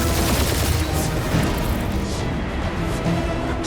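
Dense, loud gunfire rolls on in Guardians of the Galaxy combat, with overlapping shots and crashes forming a steady wall of noise without pause.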